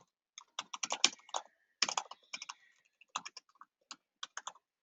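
Typing on a computer keyboard, close and crisp, with quick bursts of clacking keystrokes separated by short pauses, no voices.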